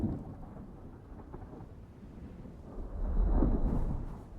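Stormy weather in Dune Awakening rumbles low and dense, a steady rushing roar that swells louder toward the end, with no voices.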